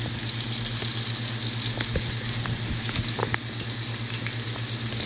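Oil sizzles steadily in a frying pan as food browns before ground turkey is added for spaghetti meat sauce, a dense continuous hiss with small crackles and occasional clinks of stirring.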